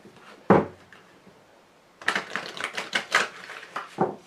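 A tarot card deck being handled and cut gives a sharp close tap, then a fast run of crisp shuffling riffles and card snaps, with no talking.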